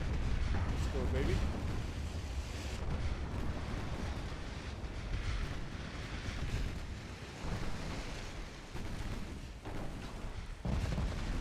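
Shell hits landing on a heavy cruiser in the naval game Ultimate Admiral Dreadnoughts, with heavy booms rolling over a constant roar of sea and wind, loud throughout while someone talks.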